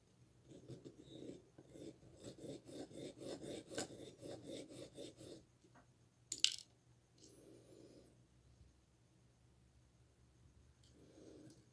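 A restoration piece being hand-sanded, with a steady run of rhythmic rasping strokes for about five seconds, then a sharp knock, and a few shorter scraping passes after a pause.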